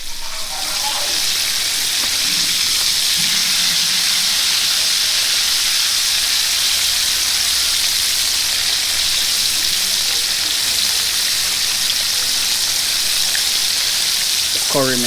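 Curry chicken fries in hot oil, a loud, steady sizzle and hiss that runs on without letup, with faint voices now and then.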